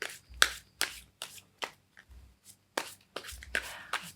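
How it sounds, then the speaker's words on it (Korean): Tarot cards are shuffled and one is drawn, producing a series of crisp, close riffling bursts in an irregular rhythm with brief quiet gaps between them. "카드 한 장만 제가 좀 더 뽑아보도록 할게요"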